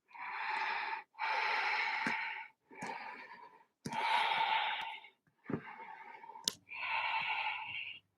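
Slow, deep breaths held in a yoga forward fold, several long airy inhales and exhales in sequence, close and clear with short pauses between them.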